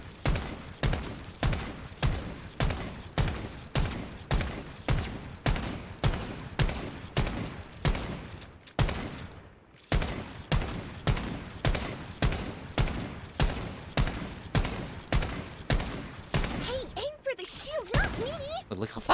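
Gunfire in the video game Strinova rattles off in rapid, evenly spaced bursts, with a short pause midway and a shimmering effect near the end, while a person talks over the shooting.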